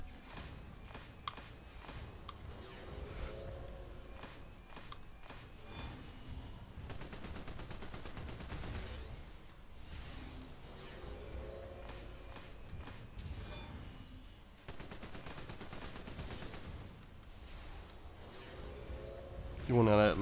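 A minigun and Light Blast attack rotation in DC Universe Online, with rapid bursts of gunfire-like shots repeating in cycles amid steady game effects over about twenty seconds.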